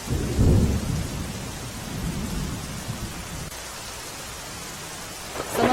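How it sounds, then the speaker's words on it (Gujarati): Heavy rain pours steadily in Dwarka district, Gujarat, while a deep rumble of thunder rolls through at the start and fades, leaving a dense, even downpour. "દ્વારકા જિલ્લામાં ભારે વરસાદ પડ્યો છે"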